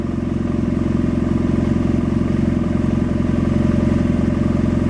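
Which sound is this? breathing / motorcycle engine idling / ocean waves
motorcycle engine idling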